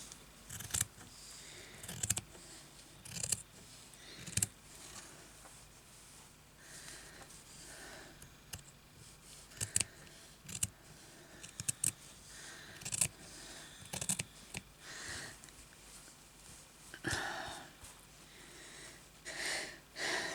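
Scissors snip through fabric while an embroidered bag is assembled by hand, giving a series of close, crisp cuts in irregular bursts with short pauses between them.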